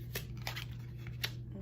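Tarot cards are drawn from a deck with a few quick, soft papery swipes and snaps, close by over a steady low background hum, with no talking.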